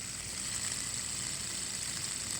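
A normal fidget spinner with slight bearing friction spins with a continuous, even whir and faint grainy rumble underneath, steady throughout with no voices.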